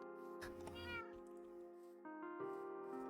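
Cats meow several times in a video game, clear tonal cries close up, with a person speaking quietly alongside.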